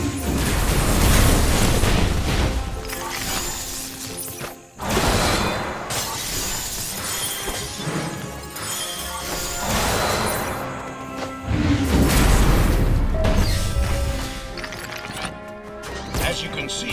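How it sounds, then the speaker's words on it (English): Knack's sunstone shockwave from the video game Knack bursts outward and smashes robots' shields, giving loud shattering crashes that repeat over a dense, continuous game soundscape. "he can release the power of the sunstones explosively as a massive shockwave"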